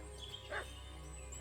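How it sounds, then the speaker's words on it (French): A dog barks once or twice, short and moderately loud, in the medieval role-playing game Kingdom Come: Deliverance II, over a steady low game ambience. "Il aboie, mais..."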